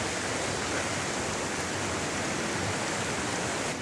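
Broad, steady rush of river water flowing, loud and continuous without pause, no voices over it.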